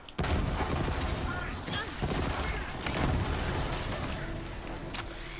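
In Borderlands 3, the Troubleshooter SMG fires in sustained bursts as Moze, a dense stream of rapid shots and booming impacts carrying on throughout, with battle noise layered around it.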